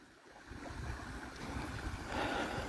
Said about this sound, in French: Il y a le petit ruisseau qui coule.